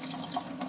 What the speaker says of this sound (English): So in goes the clean water